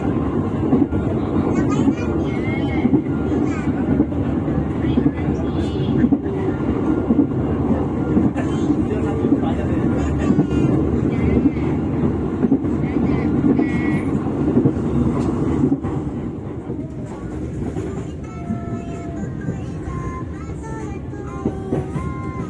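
A KA Motis freight train runs along the rails past Kuripan station on Indonesia's northern route, a loud, steady rumble and clatter of wheels that eases slightly toward the end.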